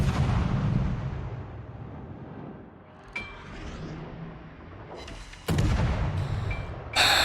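Japanese destroyer guns fire in the naval game World of Warships: heavy booming salvos with sharp cracks at intervals, over a low ocean-and-engine rumble, the loudest blasts landing near the end.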